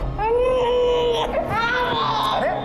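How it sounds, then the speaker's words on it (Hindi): A baby girl wails loudly and continuously, her cries rising and falling in pitch over a steady background hum, close and alone with no talking. "बच्ची रो रही है"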